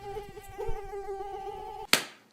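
A mosquito whines close by in a thin, steady tonal buzz that holds for nearly two seconds, then cuts off with a sharp slap-like snap.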